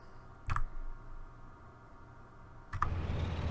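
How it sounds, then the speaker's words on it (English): Two sharp clicks, about two seconds apart, from a computer mouse pressing a play button in a racing game menu, each click distinct and close over a low background hum. "When I was clicking on the play button"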